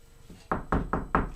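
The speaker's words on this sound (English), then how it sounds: "knocked on the door" Four firm knocks on a door, evenly spaced and close, following a quieter tap, with no voices.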